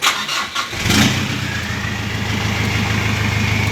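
A car engine cranks briefly and fires up right after an aftermarket anti-theft alarm system unlocks it. The engine then settles into a steady, close idle with a low rhythmic rumble.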